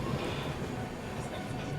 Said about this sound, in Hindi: अपनी ट्रेन की डिपर्चर हो चुकी है पटना साहिब रेलवे स्टेशन से।